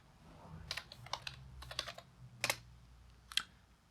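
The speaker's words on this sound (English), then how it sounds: "I typed my password in" A password typed on a computer keyboard while installing software on Ubuntu 21.10, a quiet, irregular run of light key clicks with short pauses between strokes.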